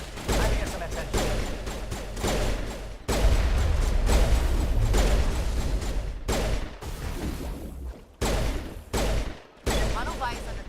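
Dense, continuous bursts of crossfire from long-range turrets in the Mass Effect Virmire mission, loud and close, with rapid shots and booms layered together over about ten seconds and brief dips near the end; radio-style voices talk throughout.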